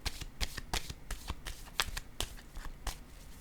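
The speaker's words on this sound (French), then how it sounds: "Attendez, je vais déposer une autre carte." Playing cards handled and set down one after another on a table during a card reading, a steady run of crisp, close slaps and flicks with no talking.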